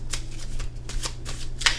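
Tarot cards are shuffled by hand in quick repeated riffles, crisp papery flutters close to the listener with no talking over them.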